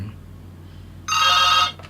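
A telephone gives one short electronic ring burst, loud and close against a low steady hum.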